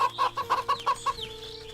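A plump hen in the video game Wytchwood clucks in a quick run of about six close, rhythmic bursts, followed by a softer trailing chirp over a steady game music bed.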